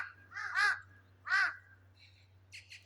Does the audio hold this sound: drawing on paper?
no